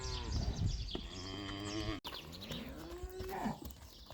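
Dairy cows on a livestock farm moo in long, loud calls close by, one low drawn-out bellow after another.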